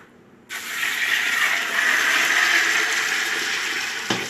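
Lukewarm water, about 1.5 gallons, pours steadily into a cooking pot over bouillon cubes, a loud continuous gushing rush that starts abruptly and runs without pause, with no talking.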